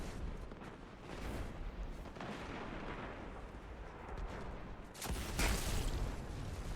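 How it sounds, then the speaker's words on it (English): Rocket launcher blasts in the Destiny 2 shooter game, a dense, continuous roar of booming explosions and gunfire, swelling into a louder burst near the end. "it's fun just shooting rocket launches everywhere"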